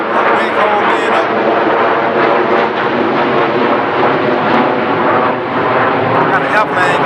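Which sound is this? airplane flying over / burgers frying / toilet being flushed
airplane flying over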